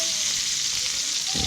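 A duck breast frying skin-side down in a hot pan gives a loud, close, steady sizzle. A low thump comes near the end.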